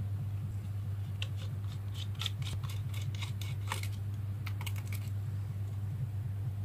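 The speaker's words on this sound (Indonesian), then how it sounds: "Penutup RAM sudah dibuka." Small metal screws and a plastic RAM cover being worked loose on an HP laptop during disassembly, a scattered run of close, sharp clicks and scraping ticks over a steady low hum.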